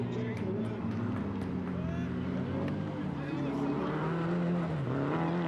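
A drift car spins out at Driftfest Round 1 in Fermoy, its engine droning loudly with rising and falling revs and a hint of tyre skid, running continuously under excited race commentary.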